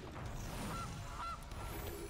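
A short goose honk sound effect from the Gilded Goose card in the MTG Arena digital card game, heard as a couple of brief honks over a steady background of game music and ambience.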